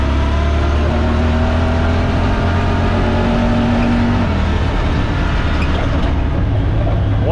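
A new side-by-side UTV engine runs loud and steady in regular automatic mode, a continuous close drone whose pitch drops as it shifts partway through, then rises again near the end.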